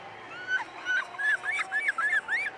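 A child imitates a bald eagle call with a rapid series of about seven thin, high chirping yelps in a quick, stuttering run, close but fairly soft.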